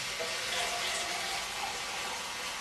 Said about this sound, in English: Probably going to fill about half of this tin with water.